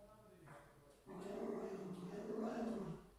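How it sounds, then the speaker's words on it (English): A guard dog growls low and steadily up close, a sustained rumbling snarl that swells after a short quieter start. "Guard dog at work."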